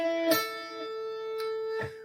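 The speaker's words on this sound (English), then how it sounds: "You can also hammer on the 7th fret." A hammer-on at the 7th fret on electric guitar: a sustained tone rings steadily, with a few light picking or fret attacks scattered across the two seconds and no voice.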